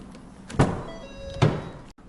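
A large SUV door, a Hyundai Palisade or Ford Explorer, thuds twice in quick succession with solid, heavy knocks about a second apart, close up against quiet cabin ambience.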